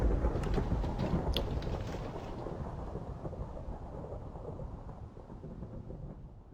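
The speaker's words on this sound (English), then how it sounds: "we got lightning going on" Thunder from a lightning storm in the video game Minecraft, a loud rumbling roll with rain-like hiss that slowly fades over several seconds.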